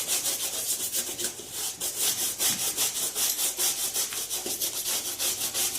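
A shoe is buffed with quick back-and-forth polishing strokes, a steady brisk scrubbing rhythm heard close up with no talking.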